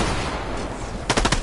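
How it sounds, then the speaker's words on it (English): A rapid burst of four or five gunshots rings out in a Fortnite competitive match, coming in quick succession after a stretch of game ambience, fairly loud and close. "A gunshot has been heard."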